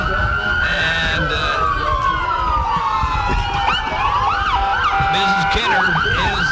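Sheriff and police car sirens wail loudly and close by in a small-town parade, several overlapping sweeping tones with bursts of yelping, while crowd noise rumbles underneath.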